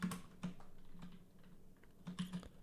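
Typing on a computer keyboard, scattered soft key clicks with a few quick clusters of strokes, close and quiet in an otherwise still room.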